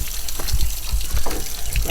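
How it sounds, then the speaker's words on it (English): Muskegon River water flowing and churning close by, a steady broadband rush with low gurgling surges throughout. "Back on the river."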